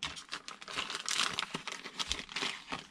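Crisp, close crinkling and rustling of sticker sheets pulled from the box of a UDIRC UCX2401 Salvator 1/24 RC crawler, in irregular bursts with brief pauses and no talking.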